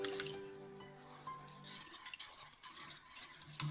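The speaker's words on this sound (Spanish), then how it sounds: "Está deshaciendo la levadura con el agua y con la sal y unas gotas de aceite" Yeast being dissolved by hand in water with salt and a few spoonfuls of oil for homemade bread: soft, continuous wet swishing and faint dripping, quiet and close, with a low tonal hum fading early.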